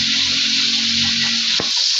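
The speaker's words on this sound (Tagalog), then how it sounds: "Ano na po ang isda iyang iprito." Fish frying in a pan of hot oil, a steady loud close sizzle throughout with a brief stir or clatter near the end.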